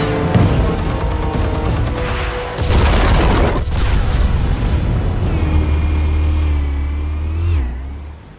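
Explosives go off in the Batman Telltale Series game as a loud, close boom with a heavy low rumble. A rising whine and a sustained roaring tail follow as the blast fades.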